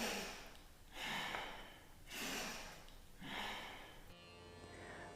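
Deep, rhythmic breaths in a kriya meditation exercise, with arms opening wide on each inhale: three slow, strong breath cycles about a second apart, close and clear, with a quieter hiss trailing at the end.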